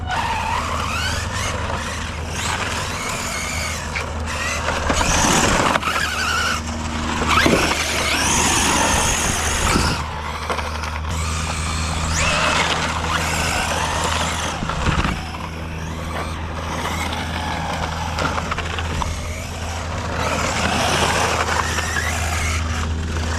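A Traxxas XO-1 RC car drives and drifts around an island, with tire squeals, skids and whining motor surges coming in bursts near and far over about twenty seconds.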